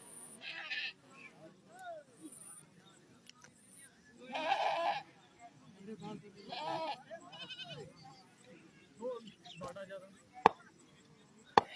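Goat bleating several times at a local cricket match, wavering cries rising over a crowd and commentary voices.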